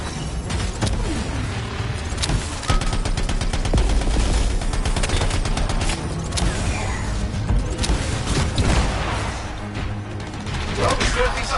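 Rapid bursts of gunfire and mechanical weapon noise from the Anthem video game fill the whole stretch, dense and continuous with crashes and clanks throughout.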